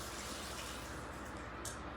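Brine pours out of a jar of green Italian olives in a steady, close liquid gush that runs unbroken the whole time, with no talking.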